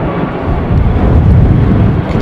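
Lufthansa airliner engines throttling up at Heathrow Airport during Storm Kathleen: a loud, steady low roar that swells slightly, heard from a distance with wind buffeting.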